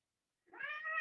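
A kitty lets out a single drawn-out meow, close and clear, beginning about halfway in and holding steady to the end, with silence before it.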